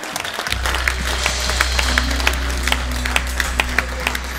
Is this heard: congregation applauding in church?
yes